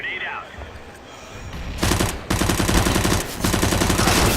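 Rapid SMG bursts crackle in CS:GO, dense automatic gunfire hammering in close, loud volleys after a quieter opening, with a brief gap between bursts.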